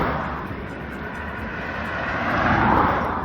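Steady roar of road traffic passing close beside a roadside walking route on an overcast morning, a continuous broad rumble that swells slightly as a vehicle goes by.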